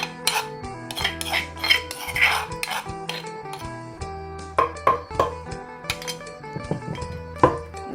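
Raw fish larb pounded and mixed in a mortar, with repeated dull thumps of the pestle and clinking of a utensil against the bowl in an uneven rhythm, fairly close.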